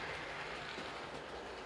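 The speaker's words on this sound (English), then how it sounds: "We just enjoy the trains running around" Model railway trains running around a layout during a live running session, giving a steady, moderately loud rolling rumble with faint clickety-clack of wheels on track and no talking.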